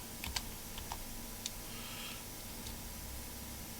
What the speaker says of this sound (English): Try and find the underscore on this keyboard.